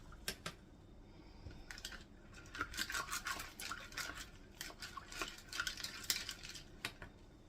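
A utensil scrapes and taps inside a glass canning jar packed with beans and ham broth, giving a run of quick clinks and scratchy stirring strokes that come close and moderately loud, with no voice over them.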